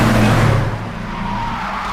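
A luxury car pulls up with its tires skidding, a loud, close engine rumble and screech that holds steady across the moment with no talk.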